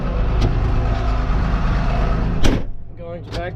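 A tractor engine idles and rumbles close by while it backs up toward a shed, a steady low drone broken by a couple of sharp knocks, with voices talking near the end.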